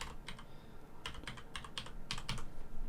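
Fast bursts of key clicks on a computer keyboard as a short name is typed, in quick clusters with brief pauses, close and fairly quiet over a soft room hiss.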